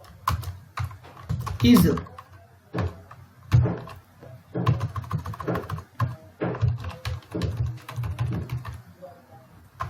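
Code being typed on a computer keyboard while writing JavaScript functions, with steady clusters of key clicks and a few louder clacks under someone talking throughout.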